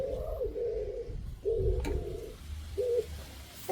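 Pigeons at a feeder give soft, repeated cooing calls in short bursts against a low background hum, fairly close and moderately quiet.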